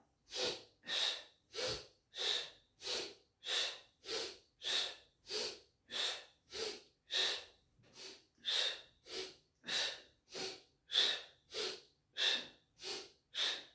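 Steady, rhythmic breathing through a balance exercise, about twenty close, even breaths over fourteen seconds, each a soft airy puff with short pauses between and no talking.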